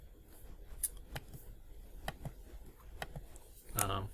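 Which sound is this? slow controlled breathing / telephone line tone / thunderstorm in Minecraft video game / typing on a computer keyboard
typing on a computer keyboard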